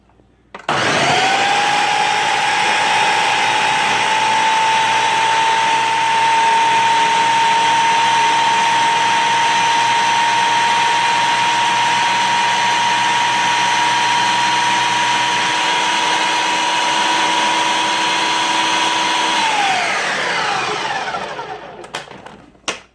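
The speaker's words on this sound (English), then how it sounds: "I've got the cauliflower inside of the Ninja here, so what we're going to do is pulse it up" A Ninja blender chops cauliflower toward a rice-like texture, its motor whirring loud and steady for about twenty seconds before spinning down, with no talking over it.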